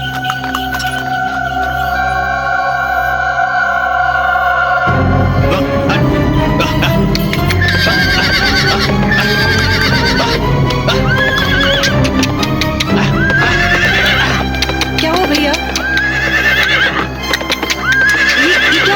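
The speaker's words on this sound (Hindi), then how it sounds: "घोड़ा आगे बढ़ता ही नहीं" A horse neighs and whinnies repeatedly over clip-clopping hooves, loud and close, with a sustained musical drone underneath throughout.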